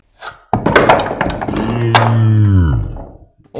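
A coordinated motion puzzle bursts apart in the hand with a sudden clattering of pieces, followed by a short rattle and a voice exclaiming.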